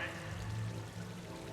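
A waterfall on the Citadel in the video game Mass Effect 3 keeps up a steady pouring rush, close and moderately loud, with a faint low voice briefly in the background.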